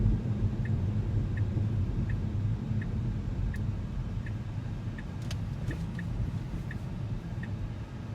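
Steady low road rumble inside a Tesla driving on Full Self Driving software, with a regular soft ticking like a turn signal repeating through it, no voices heard.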